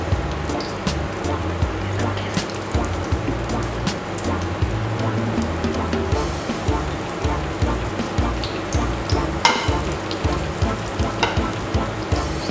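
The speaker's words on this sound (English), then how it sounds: "So I'm just placing my balls in my hot oil." Meatballs frying in hot oil, a close, steady crackling sizzle with irregular spits and pops throughout, a faint voice and low hum sitting underneath.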